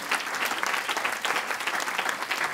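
A church congregation breaks into steady, dense applause, a continuous wash of clapping from many hands that fills the room without any voice over it.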